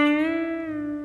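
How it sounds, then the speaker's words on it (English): A single electric guitar note on the 3rd string at the 7th fret is bent up a full step and released back down, ringing alone with steady sustain and a clear gliding pitch change. "we're going to bend that up a full step and then come right back down to where we started."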